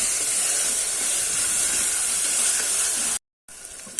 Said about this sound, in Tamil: இந்த தக்காளி நல்லா கரையிற அளவுக்கு வதங்கிக்கலாம்.